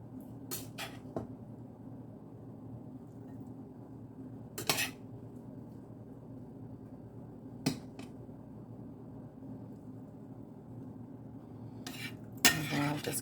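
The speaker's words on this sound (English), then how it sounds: "I'm just going to start kind of just mixing it around in there until the rice is coated." Rice being stirred into pan juices with a utensil while preparing lemon baked chicken and rice: a few sharp scraping and clinking hits of the utensil against the pan over a quiet steady background hum, with no talking.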